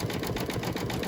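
An embroidery machine stitching a honeycomb design on a coaster, a close, rapid, steady mechanical whirring with evenly pulsing needle strokes throughout.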